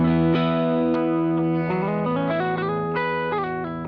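Bass guitar played with a clean tone through a Jackson Prism pedal with other effects off, a run of sustained plucked notes stepping up and down in pitch, full and resonant with no voices.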